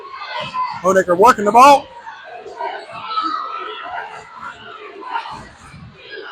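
A high school girls' basketball crowd at a state Final Four game, with loud shouting and cheering bursting up near the start, then a sustained roar under a commentator's voice.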